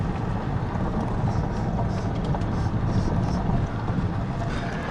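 A rig driven on a mountain road near Mazourka Peak gives a steady, loud rumble of engine and wind buffeting the microphone, continuous and unbroken throughout with no talk.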